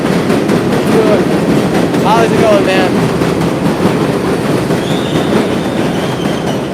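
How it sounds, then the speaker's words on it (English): A loud train rumbles past on an elevated line in the Bronx, a steady roar with clattering wheels and brief high squeals, while a man greets someone nearby. "The train's too loud."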